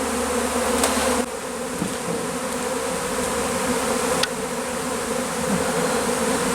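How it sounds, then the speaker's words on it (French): A swarm of thousands of honeybees leaves the hive, making a dense continuous buzzing drone, loud and close, with a few faint clicks and no voices. "ce sont des milliers d'individus qui quittent ainsi la ruche"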